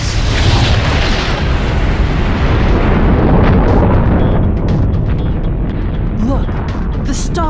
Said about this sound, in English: Eta Carina does die in an incredible supernova explosion that destroys the star